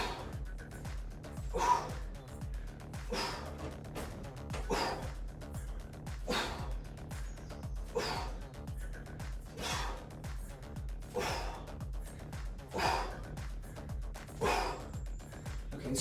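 Heavy, rhythmic breathing from a person doing a dumbbell and kettlebell HIIT workout with swings: repeated sharp inhales and exhales at a steady pace, close and fairly quiet, with no talking.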